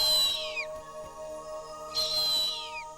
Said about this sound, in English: A harpy's calls helped lead Neil to its nest